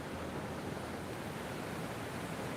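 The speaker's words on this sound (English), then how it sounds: "Lovely sound of the waves." Ocean waves washing onto the shore at Los Cristianos, Tenerife, a continuous broad wash of surf, steady and fairly close, with no distinct breaks.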